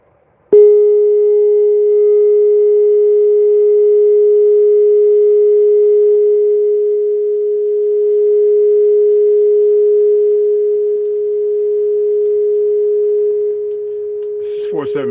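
A steady 417 Hz sine tone, pure and unwavering, sounding loud and alone for about fourteen seconds before cutting off amid a brief burst of noise at the end.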